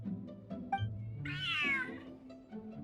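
A cat meows once in a video game, a clear drawn-out call standing out over a steady background of game ambience.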